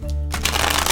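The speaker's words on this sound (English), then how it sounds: "I'm going to shuffle the cards a little more" Tarot cards being shuffled by hand, a quick dense riffling flutter starting after a short pause and continuing close and loud for the rest of the second.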